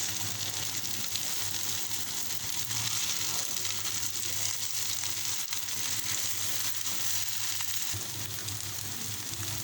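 Mutton kababs fry in a pan with a steady, even sizzle that carries on without a break, close and moderately loud.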